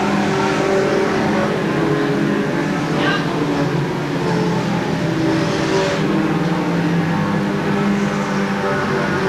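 Race cars at weekly stock-car racing at Seekonk Speedway roar continuously at mid distance, engines revving and droning with a steady dense wall of noise over the full stretch and no pauses.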